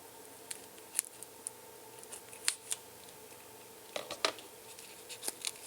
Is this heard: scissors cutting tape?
yes